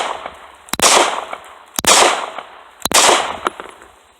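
Three sharp handgun shots fired during a limp-wrist test, evenly spaced about a second apart, each loud and close with a short ringing tail.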